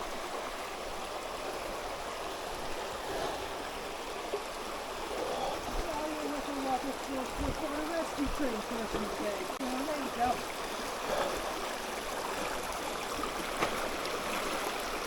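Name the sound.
hiker wading through a stream crossing in Pisgah forest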